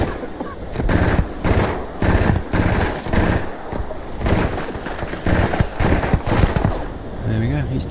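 Drum Beat rifle in the video game Starfield firing long rapid bursts at an armoured enemy, loud, dense and close, with short pauses between volleys and a voice talking over parts of it.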